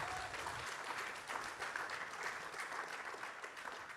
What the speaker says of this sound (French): je sais que notre secrétaire général aura le droit à une standing ovation